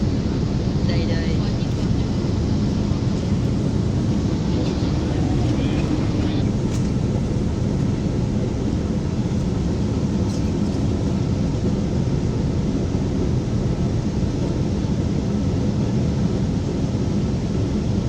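Airplane cabin while landing at Hong Kong, a loud constant broadband engine and air roar throughout, with people talking under it.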